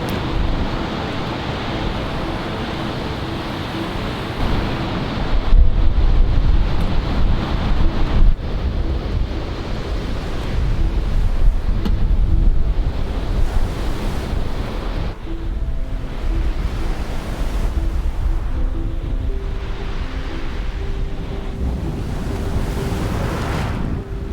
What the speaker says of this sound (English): we would not want to camp in this kind of wind